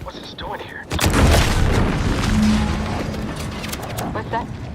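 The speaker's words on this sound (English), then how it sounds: "What's that? An explosion?" A loud, deep explosion booms in The Outer Worlds 2 game, rolling into a sustained rumble of debris and fire that fades slowly over several seconds, with faint voices around it.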